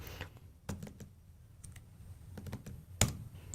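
Computer keyboard keystrokes for a save shortcut: a handful of soft, close clicks scattered irregularly over a low hum, with one sharper tap near the end, and no voices.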